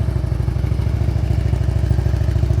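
A motorcycle rolls slowly to a smooth stop on the rear brake during slow-speed riding practice, its engine a steady, close, low putter with faint mechanical clatter and no talk.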